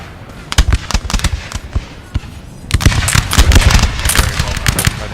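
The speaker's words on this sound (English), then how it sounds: "Opening fire." Musket volleys crackle through a 4v4 Napoleon Total War battle between France and its rivals, scattered shots first, then a dense sustained barrage of overlapping reports, loud and close, with faint talk underneath.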